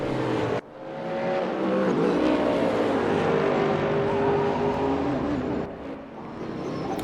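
A GT3 race car in the Raceroom racing game roars steadily at the Nürburgring as it heads into the pit lane, its engine drone continuous and loud apart from a brief dip near the start.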